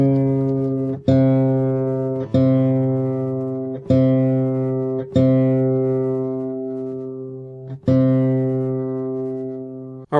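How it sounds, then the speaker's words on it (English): A guitar's D string is plucked six times in a slow, even series of ringing notes as it is tuned down toward C, each note sustaining and fading, close and clear. "We're going to go all the way down to C."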